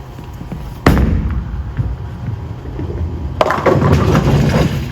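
A Storm Nova bowling ball strikes the pins with a sharp crash, followed a few seconds later by another loud clattering impact as pins scatter, over steady bowling alley ambience.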